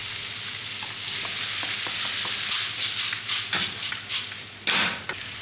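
Garlic, onion, scotch bonnet, scallion and tomatoes sauté in hot oil, then cooked ackee is added. A loud, steady sizzle runs throughout, broken by stirring scrapes and clatters toward the end.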